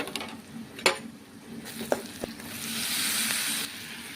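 Oil sizzles in a pan with onion, turmeric and chilli, a few sharp utensil clinks and stirring scrapes over a hiss that swells louder toward the end, with no talking.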